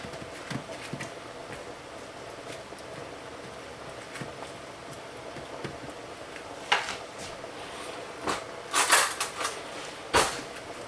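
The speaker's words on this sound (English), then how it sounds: "we're just going to mash them like this with a spoon or fork" White beans in a chili pot mashed with a spoon or fork, scattered soft scraping and clinking taps against the pot, sparse at first and then a few louder clustered knocks.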